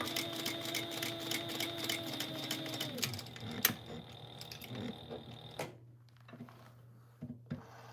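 Fabric is stitched down on a sewing machine with a rapid, steady mechanical whirring and tapping that runs for about five seconds, winds down, and gives way to a few faint clicks and handling sounds.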